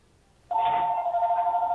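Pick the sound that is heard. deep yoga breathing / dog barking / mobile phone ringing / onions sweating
mobile phone ringing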